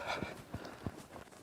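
A young two-year-old ranch horse under a rider clip-clops at a walk, with about four evenly spaced hoof thuds on ground, close by and fairly soft, with no talking.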